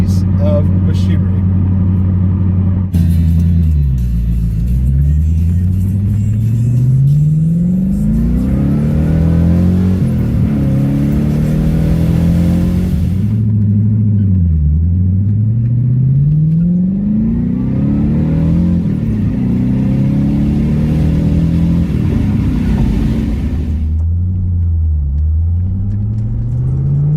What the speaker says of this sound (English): Cruising around, having fun in the Corvette, because this car is an amazing piece of machinery